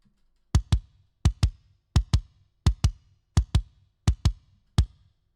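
Kick drum pedal with no EQ in a metal mix, heard alone as sharp paired double-kick thuds, two quick beats repeated seven times with short pauses between, each hit dry with a clicky attack and a short boomy low tail.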